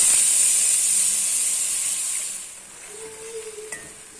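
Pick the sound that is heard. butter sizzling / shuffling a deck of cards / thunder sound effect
butter sizzling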